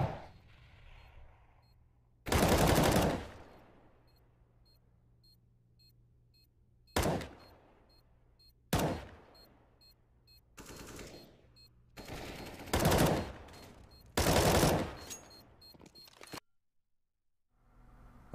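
Gunfire in a first-person shooter video game, sharp loud single shots and short rapid bursts spaced several seconds apart, each with a ringing tail, over a low steady hum.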